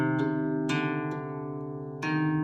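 Harp E flat string plucked several times with a faint fingernail scrape on each attack, ringing tones sustaining between plucks, close and quiet.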